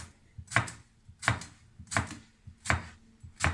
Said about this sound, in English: grab your cucumbers and slice them